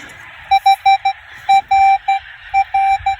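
A Minelab Equinox 800 metal detector sounds a string of short, clear electronic beeps in uneven bursts over about three seconds, some held slightly longer, loud and close, while sweeping near an old shearing shed.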